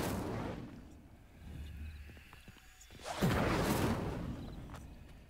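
An Incendio fire spell is cast in the video game Hogwarts Legacy. Faint rustling ambience gives way to a sudden broadband whooshing burst of flame that swells and then slowly fades.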